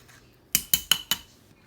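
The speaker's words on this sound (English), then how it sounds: "Take a spoon, just scoop it all out." A metal spoon works sliced avocado out of its skin. It makes four quick, sharp, close clinks in an even rhythm over a quiet background.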